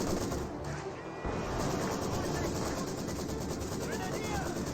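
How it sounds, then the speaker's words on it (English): An MG42 machine gun fires from a bunker in Company of Heroes 2, a continuous rattling stream of gunfire under steady battle noise, with a voice talking over it. "the MG42 inside of the bunker, ripping everything that's advancing forward"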